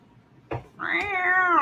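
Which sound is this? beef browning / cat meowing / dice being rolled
cat meowing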